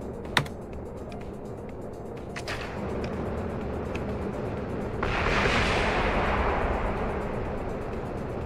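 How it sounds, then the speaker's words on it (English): Space shuttle main engines igniting at liftoff in a simulated launch from a pad with an external tank: a few clicks and taps, then a broad roaring rush that swells in and holds steady. "Go for main engine start"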